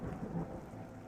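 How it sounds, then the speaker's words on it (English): Crack of thunder in a story: a brief, dense rumble with rain-like hiss, steady and fairly quiet throughout, no voice. "There was a crack of thunder and she went rigid."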